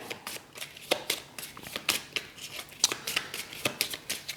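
Playing cards from a board game deck being shuffled and drawn, a close, crisp run of repeated flicking riffs and soft slides with no talk.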